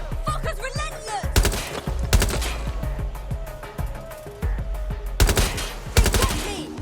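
Gunfire in the Watch Dogs video game, close sharp shots in quick irregular bursts and fusillades, some clustered volleys loud and near, with brief lulls between.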